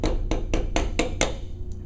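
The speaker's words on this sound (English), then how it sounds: "So you can take a little hammer or whatever you want," Six sharp, evenly spaced taps from a small hammer driving rivets back into hardware until flush, ringing slightly, close up, followed by one faint softer tap.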